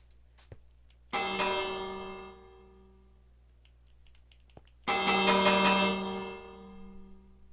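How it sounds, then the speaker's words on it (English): A village bell in Minecraft is struck twice, each a bright metallic clang that rings out and slowly decays, a few seconds apart with quiet gaps between. "we need to ring the bell, I think."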